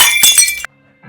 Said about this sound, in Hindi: वो ऑयल की बोतल टूट गई